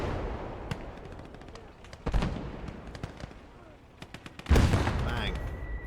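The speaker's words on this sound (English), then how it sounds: "I'm going to move this Panzer 3 up and I'm going to take out that BT" A Panzer III tank firing on a BT tank in the WWII strategy game Gates of Hell: Ostfront, with a heavy cannon blast and a later louder boom amid scattered crackling gunfire and a voice talking over the battle.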